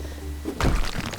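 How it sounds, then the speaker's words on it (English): A great big sledgehammer knocks out interior walls in the renovation game House Flipper, landing as a single heavy thunk followed by crumbling debris, loud and close. "it's quite satisfying with the great big hammer knocking the walls out"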